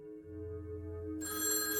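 Telephone ringing as a sound effect, a steady electronic ring tone that starts low and then swells into a brighter, fuller ring partway through, heard alone.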